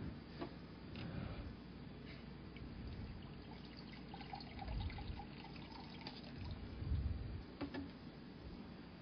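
Water poured and sipped during a break in a Portuguese surgery lecture, soft trickling and low gulping sounds at a quiet, steady level with no talking.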